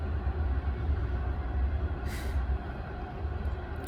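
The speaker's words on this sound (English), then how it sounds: "it's a train in my backyard" A train passes behind a backyard, heard as a continuous low rumble with a brief hiss partway through, steady and moderately loud, with no voices.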